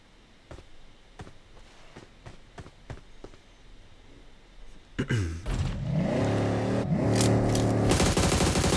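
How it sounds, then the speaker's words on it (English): Gunfire in the mobile battle royale game PUBG Mobile: a few sharp, distant shots spaced out at first, then a loud vehicle engine revving and roaring up close with more bursts over it. "Strangers BD shooting at Team 9 there"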